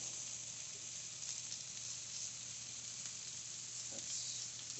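Sliced jalapenos sizzle and fry steadily in hot coconut oil in a pan, a constant close crackle with a few brief stirring clicks and no talk.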